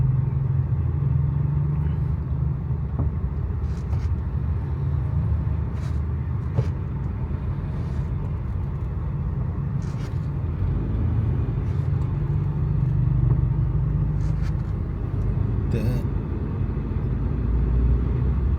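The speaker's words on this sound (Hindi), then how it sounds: "इतना ट्रैफिक का दबाव तो सामने है।" Steady road traffic near Kashmir Chowk, a continuous low rumble of cars and motorcycles passing at moderate distance, with occasional brief higher engine or horn-like tones rising above the dense drone.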